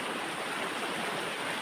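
Steady, full rush of a flowing river stream, constant and close with no pauses, at a fishing spot along the river.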